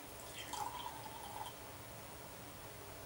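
Rockstar Roasted coffee energy drink is poured into a glass, making a brief, faint gurgling trickle near the start that fades into quiet room noise.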